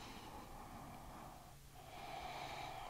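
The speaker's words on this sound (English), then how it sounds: "Nice deep breath." A slow, deep breath during a yoga stretch, a soft airy inhale and exhale close to the microphone in a quiet room.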